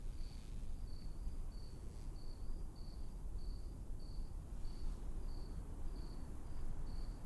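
Insects chirp at night in the Trüberbrook video game: a faint, regular pulse of cricket-like chirps repeats about every half second over a soft continuous hiss.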